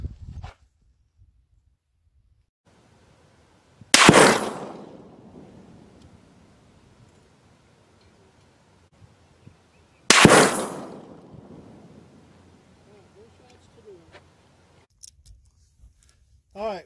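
Two loud, sharp 300 Win Mag rifle shots at an outdoor range, about six seconds apart, each with a long echoing decay. Quiet stretches sit between and around the shots.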